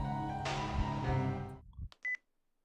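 A short electronic beep-beep tone sounds after a sustained hum cuts off, marking a phone hang-up in the visual novel Chaos;Head Noah; the beeps are brief, clear and close.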